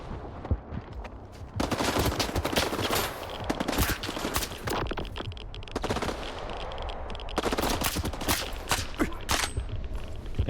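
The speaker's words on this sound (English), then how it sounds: "Dude, stop shooting me." Rapid gunfire crackles toward the player in S.T.A.L.K.E.R. 2: Heart of Chornobyl, dense automatic bursts and single shots overlapping loudly and almost continuously.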